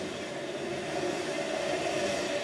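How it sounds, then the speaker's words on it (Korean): A double-decker train running in a VR scene plays as a steady, continuous rumble with a droning hum, constant in loudness throughout, no voices present. "그 미래에는 이제 2층 기차가 다녀요. 기차계 2층 기차가 다니고 진동이 더 커지죠."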